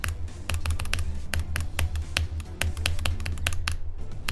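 Rapid mouse clicking while playing Geometry Dash, a dense stream of sharp close-up clicks over a constant low bassy hum from the game, with no talking.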